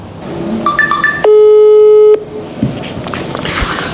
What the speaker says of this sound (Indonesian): Kita coba telepon Bu Popi ya.